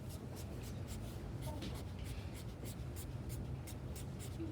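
Soft, steady scratching of a drawing tool sketching overlapping tree branches across paper, faint and close with no voices.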